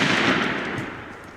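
Shotgun fired at a close-range turkey during a hunt, a single sharp, loud blast at the start that rings out and decays over about a second.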